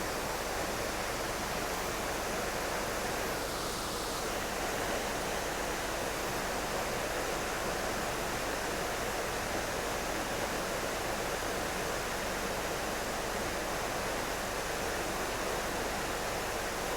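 A waterfall roars in a constant, dense rush of broadband noise, steady and loud throughout with no breaks or voices.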